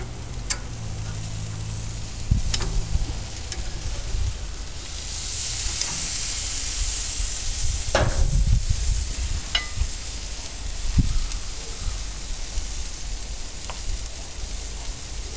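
Steaks and scallops sizzle steadily on a charcoal grill, a continuous close, bright frying hiss with occasional ticks and clinks of tongs or utensils, and no talk.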